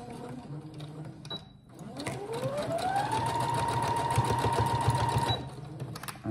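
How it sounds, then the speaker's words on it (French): Sewing machine stitching fabric 1 cm from the edge, forward and back, for a needle-holder bracelet: the motor whines up in pitch, holds a steady buzzing run for a few seconds, then stops abruptly. "Vous allez faire une couture à 1 cm du bord, point avant, point arrière, point avant, point arrière, pour fixer votre couture."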